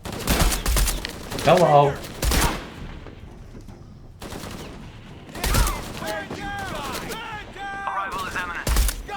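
Bursts of weapon fire in a video game crackle in loud rapid volleys, broken by pauses, and a voice speaks briefly between them.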